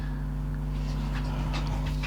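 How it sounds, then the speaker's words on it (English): Dogs pant and give soft whimpers close by over a steady low machine hum in a workshop where a Barry King grooved edger is used on leather. "Dogs are in to say hi."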